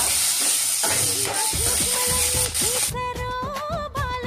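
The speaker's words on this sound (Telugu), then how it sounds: "ఇప్పుడు అదే పాన్ లో ఒక గుప్పెడు పచ్చిమిర్చి, 1 స్పూన్ జీలకర్ర వేసేసుకొని ఇవి కూడా మనం బాగా చేసుకోవాలి" Green chillies and cumin frying in a pan, a steady hiss of sizzling oil with clinks of a stirring utensil and mechanical squeaks, close and continuous with no talk.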